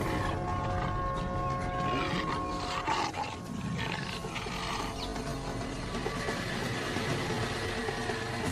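A male tiger roars in a dense wild habitat, a low rough growl rising and falling over steady background noise for several seconds, with no talking.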